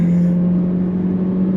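An Alfa Romeo Tonale driving to the finish line at the Goodwood Festival of Speed, heard from inside as a loud, steady engine drone with a constant low hum and no voices.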